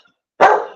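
Bam Bam, a pet dog, lets out a single loud bark close by after a moment of silence, sharp at the onset and trailing off briefly.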